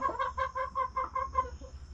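Hens cluck in a steady run of about ten short, even calls close by, a broody hen named Bernice among them, over a low background hum.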